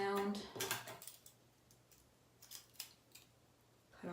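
Scissors snip into hair in a series of quick, light clicks for point cutting while trimming long fringe bangs, with brief close crisp cuts spaced unevenly.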